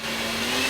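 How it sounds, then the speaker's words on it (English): A blender whirs steadily through an olive oil mixture during a live cooking demonstration. The motor drone is close and constant, with a thin high whine running through it. "I am going to blend this"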